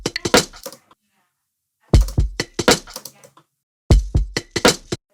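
Crisp drum-kit percussion one-shots from a new sample pack play in three short bursts of rapid, punchy hits separated by silences, close and dry.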